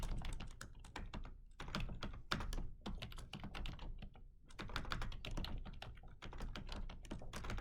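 Rapid, continuous clacking on a computer keyboard, up close. Dense bursts of keystrokes are broken by a few short pauses, and no one speaks.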